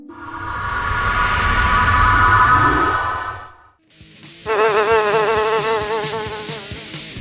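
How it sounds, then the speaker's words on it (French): A giant dung fly buzzes as a sound effect in a French audio drama, a loud, steady drone for about four seconds, a brief pause, then a second, wavering buzz that swells and warbles to the end. "Oh mon Dieu, c'est une mouche à merde."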